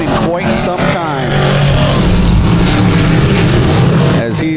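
Dirt track race cars at Genesee Sportsman roar down the backstretch during a heat race, a loud, sustained, close engine drone with rising and falling pitch under an announcer's voice.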